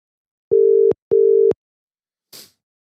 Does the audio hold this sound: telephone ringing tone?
yes